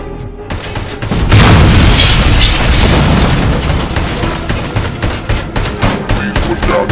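ED-209 robot gunfire and explosions in a Robocop video game: a loud booming blast opens into a long roaring barrage of rapid machine-gun fire that rattles on to the end.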